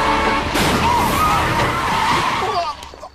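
Pickup truck skidding and striking a man in the film Luca, a harsh, loud screech of tires and rushing vehicle noise that fades out near the end, with voices mixed in.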